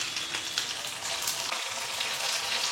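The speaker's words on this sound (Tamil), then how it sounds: "நல்லா போட்டோன்னே நல்லா பொரியுது." Rice vadam crackling and sizzling in hot oil on a stove, a steady dense frying hiss that carries on without pause and with no one speaking.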